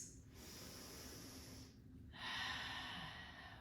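Deep, steady breathing during a lower-body foam rolling exercise, with long hissy inhales and exhales that get louder and stronger toward the end; no talking.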